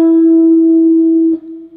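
One sustained guitar note on the 9th fret of the 3rd string, part of a guitar lesson piece, sounds loud and close, ringing evenly before being cut off near the end, with no speech.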